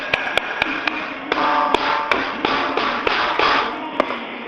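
A drumstick taps on a piece of iron in a steady series of sharp, bright metallic strikes over a loud, dense background wash.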